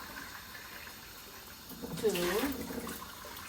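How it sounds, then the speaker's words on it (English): Water is poured into a pot of rice in a home kitchen, a brief gurgling splash lasting about a second, heard while a person counts aloud. "so I'm going to put 3 cups of water"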